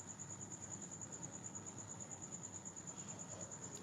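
Steady cricket chirping sounds faintly in the background, a thin continuous high trill running unbroken behind a low murmur of room noise.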